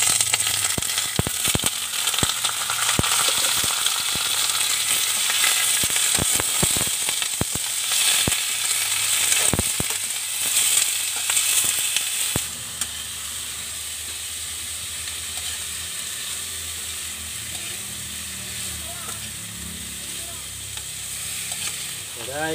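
Frog meat sizzles loudly in a pan with onions, with sharp clinks and scrapes of stirring over the first half before settling into a quieter, steady sizzle.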